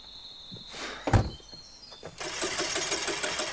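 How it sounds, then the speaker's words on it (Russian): A van's engine in the horror game The Quarry cranks but fails to catch: a clunk, then a whirring starter that rises into a steady, loud mechanical rattle with no talking. "Блин, не знаю, кажется, что-то с двигателем, мистер Хэ."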